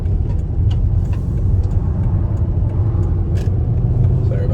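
A car travels a road at about 55 mph, giving a steady, loud low rumble of engine and road noise throughout with no breaks.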